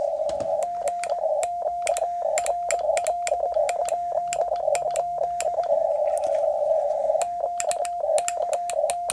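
Morse code CW tones keyed with a paddle at 20 words per minute: a steady single-pitch tone broken into rapid dots and dashes with sharp key clicks, loud and close, continuing throughout with no talk.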